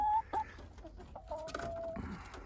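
A big meat-breed chicken in a coop, clucking and murmuring close by in short, uneven bursts, with a drawn-out throaty note partway through.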